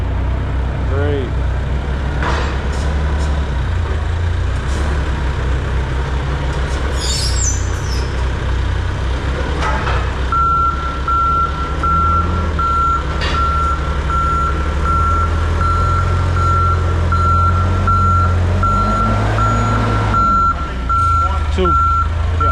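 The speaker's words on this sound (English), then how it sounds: "Hey, we got the forklift here." A forklift backing toward a truck trailer at a loading dock sounds a steady series of high, evenly spaced reversing beeps over a loud idling truck engine rumble, with occasional voices in the background.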